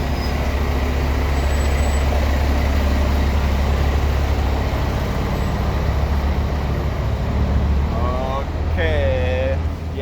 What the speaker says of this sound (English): The big truck is passing by.